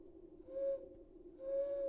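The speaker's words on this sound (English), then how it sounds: "In the distance, so far above her head, an owl hooted." An owl hoots twice in a dark woodland scene of a visual novel game, each call a clear, sustained, fairly faint tone over a low background hum.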